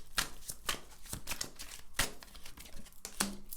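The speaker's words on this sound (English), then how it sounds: "I'm going to shuffle these cards" Playing cards are shuffled by hand close up, with a steady run of riffling, flicking rustles and a few sharper snaps over about three and a half seconds, and no one speaks.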